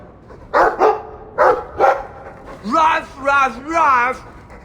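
A Mabari war dog in the video game Dragon Age 2 barks in two pairs of sharp close woofs, then gives three drawn-out wavering howl-like yowls, loud and clear.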